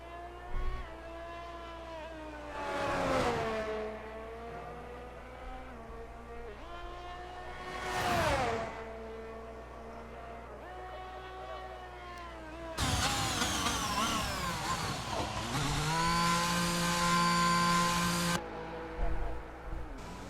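Formula 1 car engines in an RSF1 league racing game at the Dutch GP, with high whining engine tones rising and falling as cars sweep past, then a dense, loud stretch of several cars revving together near the end.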